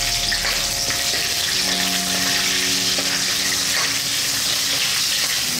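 Rampa (pandan) leaves, chili and curry leaves fry in hot oil for Sri Lankan cooking, giving a loud, continuous crackling sizzle that runs unbroken, close up and with no talk.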